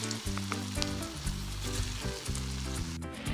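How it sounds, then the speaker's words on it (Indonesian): Tofu fritters (perkedel tahu) fry in hot oil with a loud, steady, crackling sizzle that continues throughout, with no talking. "Goreng sampai mateng."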